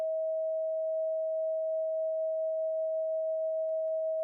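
A pure sine tone played as a so-called magic frequency, a single steady pitch held at constant loudness throughout, with nothing else audible.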